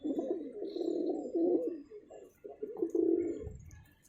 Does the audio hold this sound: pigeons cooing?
yes